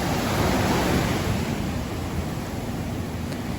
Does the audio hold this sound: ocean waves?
yes